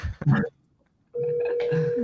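A short burst of telephone dialing tones, then a pause and a steady electronic tone holding through the rest, heard close through a phone line.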